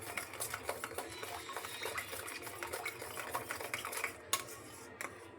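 A mixture whisked briskly in a bowl, heard as quick, rhythmic scraping and tapping strokes, soft and close, with a low background hum and a few louder knocks near the end.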